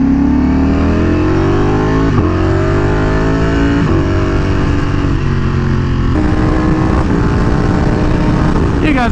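Ducati Panigale V4R motorcycle engine under way, loud and close, repeated rising revs through the gears with sharp drops at each shift, strong wind rush throughout.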